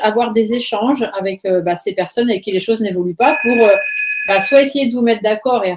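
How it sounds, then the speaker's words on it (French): A telephone rings once with a steady electronic tone, partly covered by someone speaking French over it. "excusez-moi pour le téléphone qui sonne"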